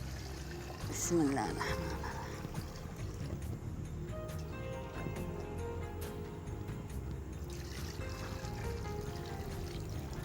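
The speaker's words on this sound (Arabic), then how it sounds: "بنصب عليه الحين الماء" Water pours into a pot over chicken as a steady, fairly faint rushing stream that keeps up throughout while someone speaks over it.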